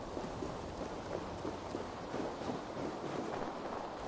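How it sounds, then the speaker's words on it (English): Storm rolling in during Assassin's Creed Valhalla, a steady wash of rain and wind with low rumbling beneath, constant and fairly quiet, no voices. "That is one storm coming in."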